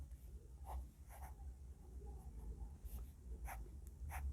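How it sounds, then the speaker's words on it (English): Scratchy strokes from a cheap Kalams of Kolkata fountain pen with a Sattur-made nib, dragging faintly across paper in short, irregular bursts, close to the ear over a low background rumble. "the great thing about this pen, I just took it out, and it's writing straight off"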